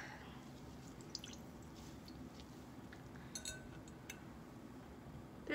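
Water drips and trickles from a wrung-out wet towel at a Norwex cleaning demo, faint scattered drops with a few light clinks over a steady quiet room hum.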